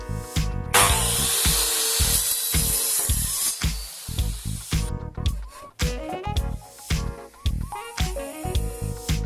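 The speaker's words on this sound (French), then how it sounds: "Ici j'ai un petit morceau qui me gêne, je le recoupe" A power tool whines and rasps through a small piece of bamboo while a tiki bar is being built outdoors, loud and close with sharp knocks and clatter, and the pitch rises and falls as the cut goes on.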